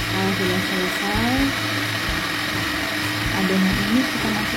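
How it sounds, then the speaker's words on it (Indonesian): A food processor whirs as it blends leftover rice dough for pempek, a loud close motor drone whose pitch rises and falls in shifting waves. "Jadi semua kita proses dalam food processor ini ya"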